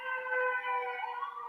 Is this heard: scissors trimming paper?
no